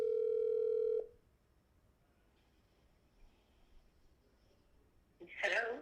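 A steady telephone tone sounds loudly for about a second as a radio call-in show connects a caller, then cuts to near silence before a brief burst of noise.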